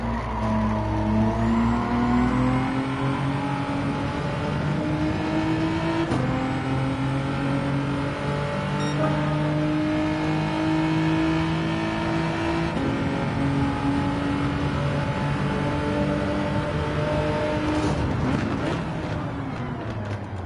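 Race car engine in a Gran Turismo 7 endurance race, a steady loud drone with rising and falling revs through gear changes, sustained throughout with tire noise and brief passing cars.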